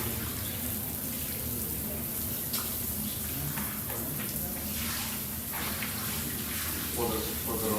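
Rose water poured as an offering to Shiva during a Hindu funeral service, a steady continuous splashing pour running throughout, close and fairly loud, with faint voices murmuring underneath.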